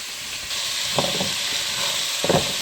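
Onion, celery and carrots seasoned with salt and pepper frying in a pan for Mexican beef stew, a steady hiss of sizzling with a few soft stirring clatters.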